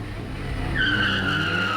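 Modified cars street racing on a public road in Johannesburg, with tires skidding in a loud, sustained screech that rises out of steady engine roar and holds to the end.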